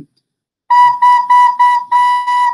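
A wind instrument sounds the note B, played as six short, even, sustained tones in a row after a brief pause, clear and close with no talk.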